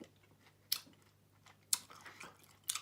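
Crunchy chewing of a tomato and onion salad dressed with oil, salt, lime juice, pepper and sesame seeds, with three sharp close bites at roughly one-second intervals over a quiet background.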